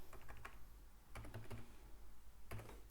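Bursts of close, crisp keystrokes on a computer keyboard as code is typed, quick clusters of clicks separated by brief pauses over a low background hum, with no speech.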